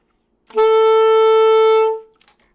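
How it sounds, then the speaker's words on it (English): One clear, sustained saxophone F sharp played with the octave key, an octave higher, held steadily for about a second and a half before it cuts off. "That is F sharp, but that's F sharp an octave higher"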